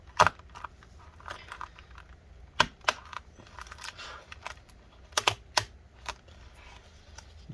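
Small clicks and crackles while a part is slowly peeled off inside a 13-inch MacBook Pro A1502 from early 2015, with irregular sharp ticks and soft scraping up close and no talk.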